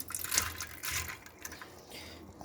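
Soaked chana dal is poured into a cooking pot, giving a wet splashing tumble that starts loudly and quickly trails off into soft settling sounds.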